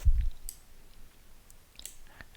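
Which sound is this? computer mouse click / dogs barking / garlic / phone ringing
computer mouse click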